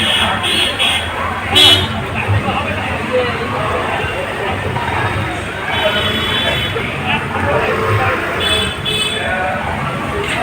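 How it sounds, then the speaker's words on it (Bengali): Busy crowd hubbub at a Rath Yatra fair, a continuous dense babble of many voices with occasional horn toots and street noise, heard throughout at close range. "মেলার আওয়াজ পাচ্ছ?"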